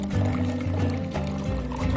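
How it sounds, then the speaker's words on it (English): Water pours from a refrigerator's dispenser into a container while the line is purged after a water filter replacement, a steady close splashing fill lasting the whole moment. "This process will produce a large volume of water, likely more than a drinking glass can hold."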